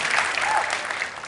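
Audience applause with some cheering fills the room steadily and loudly for a moment at a talk on social progress rankings of emerging economies such as Brazil.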